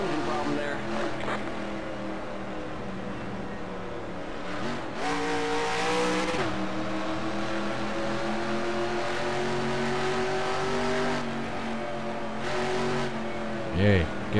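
A race car engine in the NASCAR Racing 2003 video game, with an engine problem, drones and shifts pitch steadily with revving surges, carrying on under speech.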